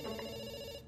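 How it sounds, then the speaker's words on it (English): A telephone rings with a steady, bright electronic ringing tone, loud and unbroken for nearly a second, with no talking over it. "we pick up the phone because it's ringing"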